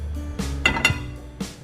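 Metal cookware clinks and knocks as a pan is set onto a stove over a covered biryani pot, a few sharp contacts in quick succession, fairly close with a low background hum.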